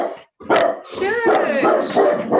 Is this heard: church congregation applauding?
no